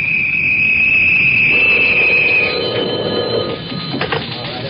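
An old telephone bell rings loudly and continuously in a radio drama, a bright metallic trill that fades out partway through.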